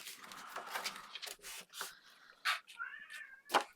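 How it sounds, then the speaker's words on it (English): A house cat meows insistently for food, a string of close, loud, drawn-out cries with short pauses between them, some rising into a whiny caterwaul. "And there goes the cat again, because he thinks it's food time"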